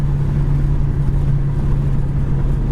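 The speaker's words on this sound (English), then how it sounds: "We're up in third gear, 60 mile an hour" A 1974 Plymouth Duster cruising in third gear at about 60 mph, its steady engine drone and road rumble holding constant and close with no talking.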